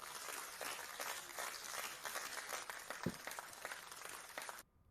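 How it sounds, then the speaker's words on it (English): Applause sound effect played during a live online audio discussion on gaming: a steady wash of clapping lasting about four and a half seconds at moderate level, then cutting off abruptly. "let's give a round of applause for today's guests"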